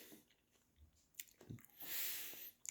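Someone chews a mouthful of arugula microgreens close up, with soft, faint crunching and a few moist bites, quiet and without talk.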